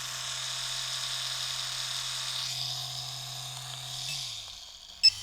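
A Bishop Wand shader tattoo machine running at 9 volts gives a steady electric buzz with a low hum beneath it, then winds down near the end and finishes with a sharp click.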